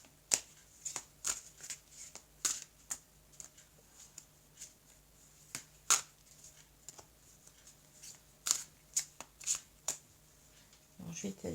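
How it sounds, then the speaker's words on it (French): Oracle cards being shuffled and spread out on a table, a series of crisp, close snapping riffles and soft slides at an irregular pace, with a quiet voice talking in the background. "Alors, je vais étaler les cartes."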